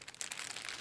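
Crinkly plastic bag wrapped around the duster attachments of an XPOWER A-2 Airrow Pro PC duster, rustling in a steady close stream of soft, bright crackles with no pauses.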